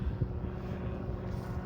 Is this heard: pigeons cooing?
no